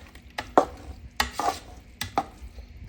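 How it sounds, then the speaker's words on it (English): Homemade dog food of split peas and beans being stirred together in a pot, with scraping, sloppy strokes landing in a few separate bursts against quieter background noise. "Mix that all up."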